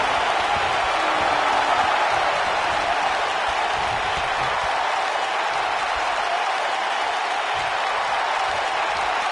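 A sold-out wrestling arena crowd cheers and applauds steadily after a side slam in a WWE match, a dense, loud, continuous roar of clapping with no pauses.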